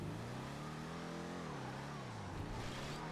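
A Broadway car in GTA 5 revs hard as it pulls a wheelie, the engine note climbing, dipping, then rising again in one continuous loud roar with no talk.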